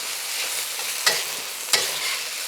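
Beef sears in a hot pan with a constant soft sizzle, broken by two sharp scraping stirs of a utensil about a second apart.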